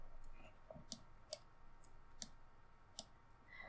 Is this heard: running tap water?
no